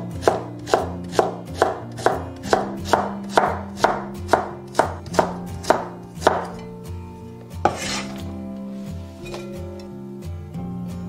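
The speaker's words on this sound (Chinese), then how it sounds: "然后再给它改刀切丝。" A kitchen knife chops peeled taro into shreds on a board in a quick, even series of crisp knocks, about two per second, that slows and stops, leaving faint hum and one last thud.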